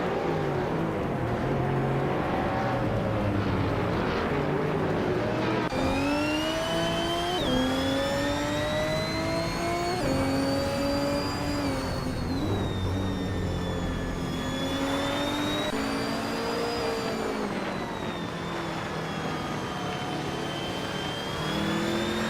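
Race car engines during a race featuring a 2000 Ferrari F3333, a loud continuous howl of high-revving engines with pitch rising and falling through shifts, cars sweeping past with no talking.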